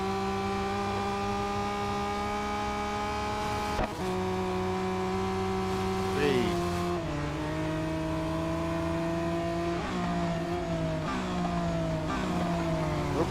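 Race cars in the mobile racing game Real Racing 3 drone steadily throughout, engine pitch holding then dropping and climbing again as gears shift, a continuous loud mechanical whine with no talking.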